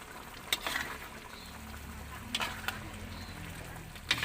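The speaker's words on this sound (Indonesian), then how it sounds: "diaduk terus supaya daun bawang dan tomatnya itu merata" Spring onions and tomatoes are stirred in a pan for a spicy Aceh squid and shrimp sambal. Occasional sharp spatula scrapes punctuate a low, steady sizzle, close up and with no talk.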